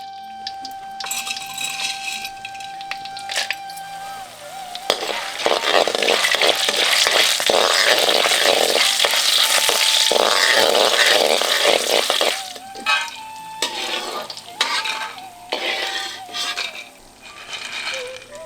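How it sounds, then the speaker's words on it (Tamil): Dried turkey berries (sundakkai vathal) fry in hot oil with a loud, dense crackling sizzle that swells mid-clip, with light clinks of a utensil and a faint background tone. "கொஞ்சம் எண்ணெயில கையளவு சுண்டக்காய் வத்தலை சேர்த்து நல்லா பொரிச்சு எடுத்துக்குவோம்"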